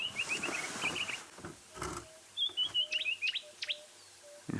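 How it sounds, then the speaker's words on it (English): A green-backed camaroptera, the green-backed bleating warbler, gives a string of thin, high, rapid chirps and trills in the open, with other soft bird notes around it and a faint steady tone underneath. "I'd say that was a green-backed bleating warbler."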